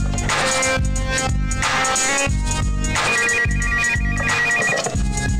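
A cordless home telephone rings on and on, a loud electronic ringtone repeating in steady bursts with a bright warbling melody and a heavy beat underneath, and no voices.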